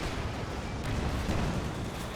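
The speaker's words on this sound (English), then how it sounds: "We'll receive a mortar onto the AT gun as well." Mortar shells and artillery bursts in Company of Heroes 2, a dense, continuous rumble of blasts and low booms filling the whole stretch at steady loudness, with no talk over it.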